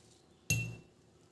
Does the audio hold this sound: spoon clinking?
yes